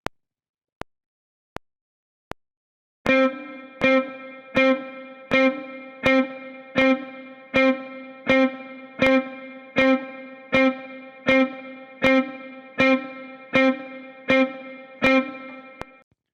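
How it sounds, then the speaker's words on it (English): Electric guitar picks a single C note on the third string, fifth fret, ringing out a dozen times in steady rhythm after a few sharp metronome clicks, each note struck close and clear with effects-laden sustain. "I'm just going to play this C note here in the 3rd string, 5th fret"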